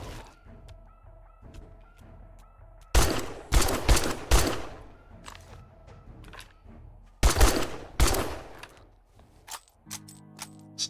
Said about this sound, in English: Luckily, I still had the other machine gun on me.